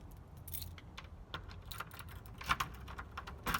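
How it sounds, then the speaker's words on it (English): A ring of storage and house keys jangles and clicks against a door lock, with quick metallic rattles and taps, close up over a faint background hiss. "Hey, I found my keys for my storage."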